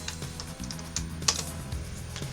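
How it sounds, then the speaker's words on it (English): Quick, irregular keystrokes on a computer keyboard as a command is typed in Arch Linux, close and clear, with one sharper key press in the middle. "And blindly type in Compiz"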